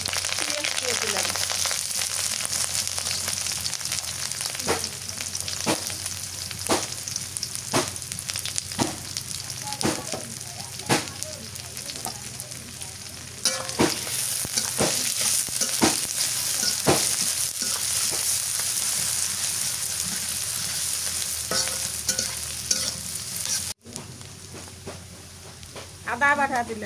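Bay leaf, cardamom, cinnamon, cloves and onion fry and get stirred for duck curry in a pan on a village clay stove during the rainy season, with a constant loud sizzle and repeated scraping clacks of the spoon.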